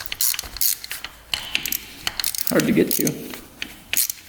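A ratchet clicks while loosening the 10mm bolts on a Honda TRX 700 ATV cylinder, the quick pawl ticks coming in short close bursts while someone speaks briefly.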